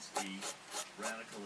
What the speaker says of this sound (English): I'm just gonna rub this stuff off here.